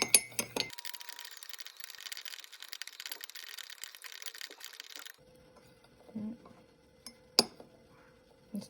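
Spoon stirring salt into water in a glass, with soft repeated clinks and scraping against the glass, quiet and close, ending in a few sharper taps.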